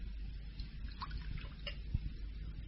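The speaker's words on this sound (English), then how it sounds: "I should be obliged if you would pour me out a glass of wine." Wine trickles faintly into a glass in a quiet radio-drama drawing room, a soft, steady liquid dribble with no voices over it.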